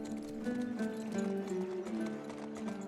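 Horse hooves clip-clop in the medieval video game Legends of the Round Table, a quiet steady rhythmic trot over layered tonal game music.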